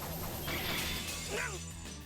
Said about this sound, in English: The swords I blocked him with are destroyed.